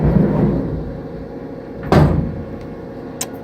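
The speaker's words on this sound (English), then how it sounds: "I'm going to put in op stop here, so it will stop after every op, and close the doors." The doors of a Haas CNC mill slide shut with one solid thud against a steady machine-shop hum, then a short, lighter click follows.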